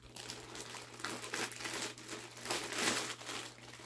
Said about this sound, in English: Just gonna tear it open.